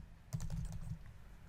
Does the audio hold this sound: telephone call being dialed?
no